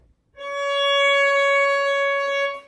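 Single bowed violin note C sharp played with a high second finger on the A string, a steady, bright tone held for roughly two seconds before stopping, with no voices.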